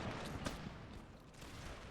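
Cannon fire in the video game Empire 2 mod, a brief burst of booming shots layered over a continuous crackling battle din, moderately loud and dense.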